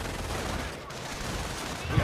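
Machine gun fire in the Company of Heroes strategy game, a continuous distant rattle of bursts blended with battlefield noise, fairly steady with no clear single shots standing out.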